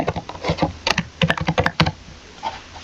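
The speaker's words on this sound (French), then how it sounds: "Et je mets mon mot de passe." A password is typed on a computer keyboard with a quick, uneven run of crisp key clicks close by and no talking.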